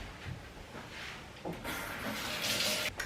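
Kitchen tap water runs steadily while something is rinsed under it at the sink, a close, continuous splashing hiss with brief interruptions.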